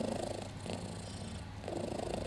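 Pusha the cat purrs softly and steadily up close, the low rumbling rhythm rising and falling with each breath, with no other sounds.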